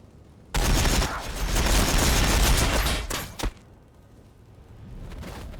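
Dense burst of gunfire in the Warhammer 40,000: Battlesector strategy game, a loud sustained volley lasting a few seconds with a sharp final crack before fading into quieter battlefield rumble.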